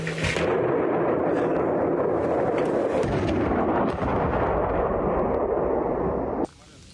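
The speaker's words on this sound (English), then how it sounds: "a Russian tank and an infantry fighting vehicle. They open fire at a point-blank range." A Russian tank and infantry fighting vehicle firing at point-blank range in a village battle, a dense rolling roar of heavy blasts and rumbling booms that fills several seconds before cutting off abruptly.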